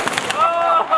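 A shotgun blast fired at a fruit salad target during an outdoor shotgun demonstration, one sharp report at the start followed by a ringing, lingering tail, with faint voices around it.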